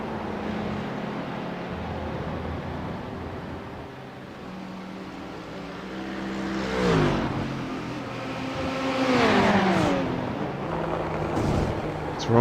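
GT3 race cars in iRacing at Silverstone, with a BMW and a Ferrari among them, roar through fast bends, engines droning steadily and then rising and falling sharply as cars rush past, with gear shifts and revving under a commentator's voice.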